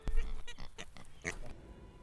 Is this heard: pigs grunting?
yes